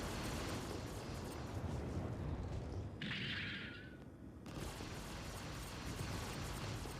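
Missiles launch and burst in a Star Citizen space battle, with a steady dense roar of explosions and weapons fire throughout and a brief rising whoosh in the middle.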